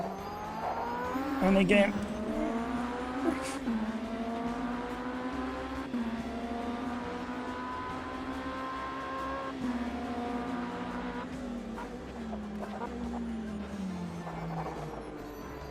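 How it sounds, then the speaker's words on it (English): Race car engine in the Automobilista 2 sim during an IMSA race, held at a steady drone with feathered throttle through turn 1, pitch rising and dipping slightly, with a commentator talking over it and a brief tire or gear blip. "Feathering the throttle just to help the traction control through turn 1."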